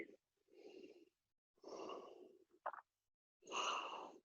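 A yoga instructor in a hatha flow class breathes audibly and slowly, three long sighing exhales separated by quiet pauses, with a short sniff-like intake between the second and third.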